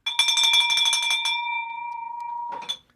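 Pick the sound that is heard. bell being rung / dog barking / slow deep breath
bell being rung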